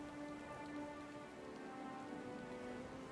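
Heavy storm rain in Pillars of Eternity 2, an even wash of falling drops pattering on surfaces, constant and moderately loud with a soft underlying rumble.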